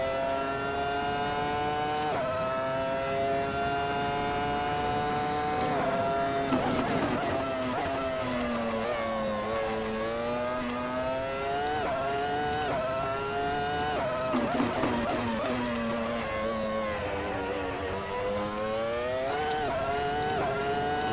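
A Williams FW24 Formula One car's high-revving engine at full speed on track, screaming continuously through rising pitch sweeps with quick gear changes, loud and close throughout.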